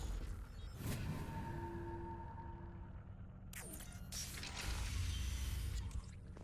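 A door being bypassed in Mass Effect 2 produces a mechanical whir with creaking and ratcheting tones and a sustained hum, then a louder grinding, clattering movement as it opens near the end, without any voices.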